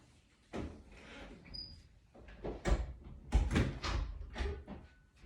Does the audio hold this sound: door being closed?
yes